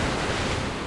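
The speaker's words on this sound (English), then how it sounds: "Watch out! The big waves!" Big waves crashing in the video game Reverse 1999 on a stormy sea, a dense, steady roar of surf filling the short moment without letup.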